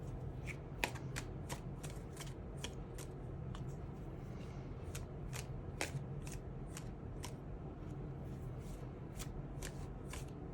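A deck of tarot cards is shuffled repeatedly up close, a continuous papery riffling broken by crisp snapping flicks, with no talking.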